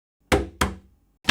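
Knocks land on a door, two firm, hollow thuds about a third of a second apart with a third starting at the end, loud and close against silence.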